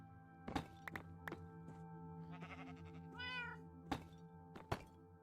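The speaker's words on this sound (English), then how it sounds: "We'll bring our cats." Minecraft cats meow in the game, a couple of drawn-out meows set among sharp repeated thunks and taps, with a steady background hum.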